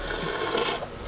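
A metal scraper drags across buttercream on a cake, making a short, close rasping scrape with slight rubbing variations and no talk.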